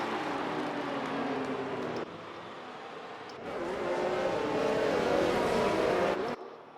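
F1 2019 race cars lapping the Hungarian Grand Prix circuit behind the safety car, a continuous engine drone that swells and shifts as cars pass, loud and steady with no talk.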